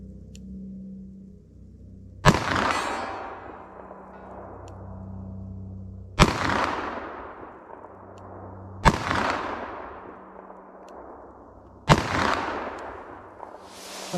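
An S&W Model 69 Combat Magnum revolver fires four hand-loaded rounds, each a sharp, heavy boom spaced a few seconds apart, with a ringing decay between them and a low hum in the quiet gaps.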